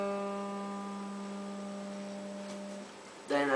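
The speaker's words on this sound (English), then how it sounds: "First you do two strums on the third string without pressing any notes," Open third string of a guitar strummed twice with no frets pressed: one long ringing note that slowly fades, then a second strum near the end, close and alone.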